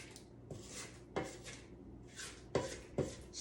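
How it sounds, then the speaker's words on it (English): Spatula scraping down the sides of a mixing bowl of creamed butter-and-sugar dough, several short rasping strokes with sharp taps against the bowl, close and fairly quiet, no speech. "grab a spatula so I can scrape this down"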